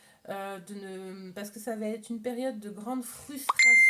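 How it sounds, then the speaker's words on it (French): A phone notification sounds once near the end, a short high electronic beep that cuts across someone talking in French. "Désolée pour le téléphone"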